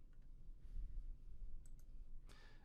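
A computer mouse clicks while navigating Camtasia menus: a few quick, faint, close clicks in short succession over quiet room tone, ending in a slightly louder click.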